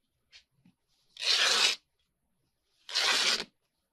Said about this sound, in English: We're going to tear a strip.